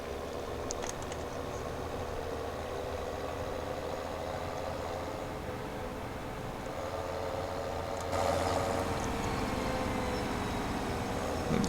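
A big tractor fitted with heavy wheel weights idles steadily in Farming Simulator 17 on PS4, a constant low engine drone that rises slightly in level near the end, with no talking.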